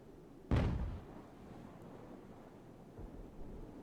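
A naval cannon shot from a sailing warship in the Age of Sail naval battle game Ultimate Admiral sounds as one sharp, booming blast that decays over about half a second, followed by low rumbling and faint wind- and sea-like ambience.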